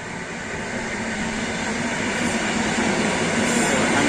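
A passing train gives a steady, broadband rumble with a constant roar that builds slightly over the few seconds, with no voices.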